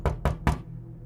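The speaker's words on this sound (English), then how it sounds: "Undeterred, she knocked again" Three sharp, evenly spaced knocks land on a door, loud and close, each with a brief hollow ring before the sound dies away into quiet.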